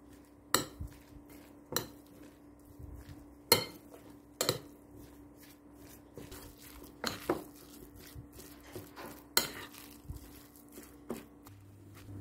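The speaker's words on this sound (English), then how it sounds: "let's mix the minced pork together with our vegetables, salt, pepper, dried parsley, soy sauce, lime juice," Minced pork gets mixed with vegetables, salt, pepper, dried parsley, soy sauce, lime juice and oyster sauce in a bowl for spring roll filling: scattered utensil clinks and knocks over soft wet stirring, quiet and intermittent.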